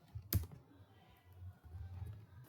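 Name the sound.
typing on a computer keyboard in Excel VBA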